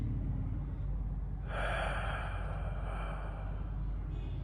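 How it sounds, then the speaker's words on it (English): A single deep breath drawn in and slowly released, close and soft, rising as an airy hiss partway through and fading over a low background rumble. "Just take a deep breath."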